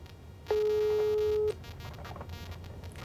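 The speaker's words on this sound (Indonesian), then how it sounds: "Ringing." Telephone ringing tone during a call, one steady electronic beep lasting about a second over faint background, with no talk.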